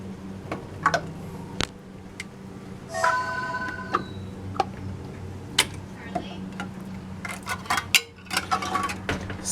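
Metal canning lids set one at a time onto glass jars of homemade rhubarb jelly, giving scattered light clinks and taps with short metallic rings over a low steady hum.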